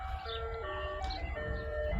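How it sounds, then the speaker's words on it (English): An ice cream truck plays its tinkling electronic jingle, a steady melody of bright tones drifting by at moderate distance over a low traffic rumble, with no talking. "excuse the ice cream truck"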